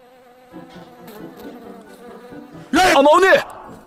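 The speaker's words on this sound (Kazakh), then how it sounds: "Ара жүр, ара жүр, құтқарыңдар, ара жүр, шағып алмасын" A bee buzzes in a thin, wavering drone that stays faint and steady for several seconds, before a sudden loud cry from a voice breaks in near the end.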